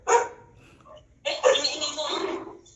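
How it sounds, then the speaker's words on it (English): A dog barks in the background during a call, two short bursts heard over a noisy connection with voices present. "The dog is joining."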